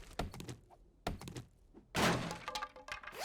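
Wooden board breaking in the 7 Days to Die survival game: sharp thunks and cracks at close range, three separate impacts with the last splintering and loudest, no voice heard.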